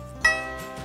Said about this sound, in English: E string sounds like this,